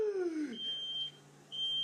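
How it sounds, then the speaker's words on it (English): A smoke alarm goes off near an oven, giving a high steady electronic tone in two separate beeps, each lasting about half a second, over a quiet room with a falling whine at the start. "That literally sounds like a smoke alarm, or like, I don't know, a detector alarm."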